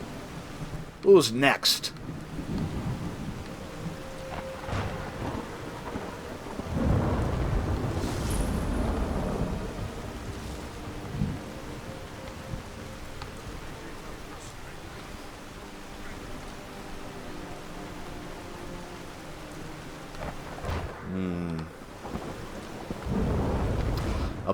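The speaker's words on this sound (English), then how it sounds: "it's a dark and stormy night for sure" A thunderstorm with steady rain fills a Skyrim night, with rumbling thunder swelling and fading over a constant hiss of rainfall, as a voice speaks briefly.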